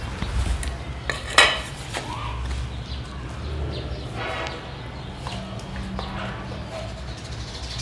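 A plate is handled with a sharp ceramic clatter early on, followed by softer scraping and clinks, at home while preparing to raise insects, with faint background noise throughout.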